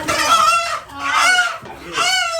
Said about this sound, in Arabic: امسك الديك قبل ما يمشي